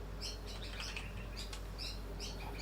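Faint, distant birds chirp and tweet in short repeated bursts outside an open window, heard over a steady low indoor hum.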